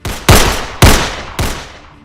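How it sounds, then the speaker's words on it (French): Gunshots ring out in a street shooting reconstruction, three loud, sharp reports spaced about half a second apart, each with a long echoing decay. "5 coups de feu retentissent"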